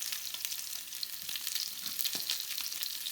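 Salmon fries in a pan with a steady, even sizzle of hissing crackle, close and continuous, with no talking.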